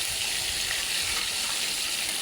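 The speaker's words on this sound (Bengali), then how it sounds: "প্রথমে আমি মাছগুলো ভেজে নিচ্ছি।" Fish sizzle steadily in hot oil in a frying pan, a dense, even crackle that stays close and constant throughout with no voices over it.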